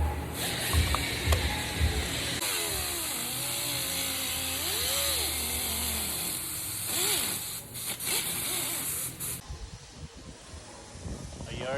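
A power tool cutting a plexiglass engine cover for a Honda NSX in a workshop: a loud, steady hissing, grinding whine, close by, with people talking over it before it cuts out near the end.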